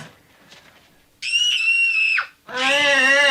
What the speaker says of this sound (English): Okay, I knew a scream had to come,